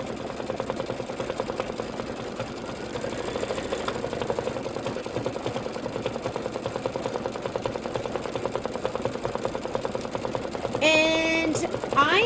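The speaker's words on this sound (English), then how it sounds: "now we're going to stitch the toe detail, and that is just going to be thread" An embroidery machine stitches a rain boot toe detail in thread with a steady, fast, even chatter throughout, and a brief voice is heard near the end.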